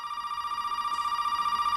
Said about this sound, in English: The phone is ringing